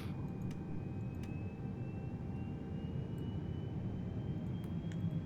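Airliner jet engines spinning down after parking at the gate in Microsoft Flight Simulator 2020, a steady low whine with a thin tone slowly falling, a few faint clicks over it, no talk.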